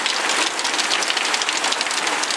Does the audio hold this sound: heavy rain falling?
yes